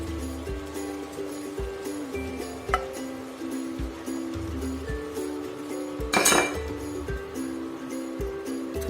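Onion, tomato and green chili tip into a pan of browned keema, giving clinks and knocks of metal utensils against the pan, with one sharp rattling clatter midway, steady and close.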